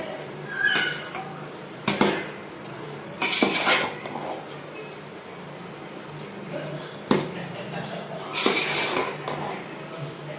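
A spoon scrapes and clinks against a pot while chicken biryani mixture is stirred, with intermittent bursts of metallic clatter over a low background hum.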